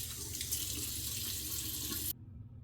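Cold water runs steadily from a sink tap for a splash after shaving, a close, even hiss that stops abruptly near the end, leaving quiet.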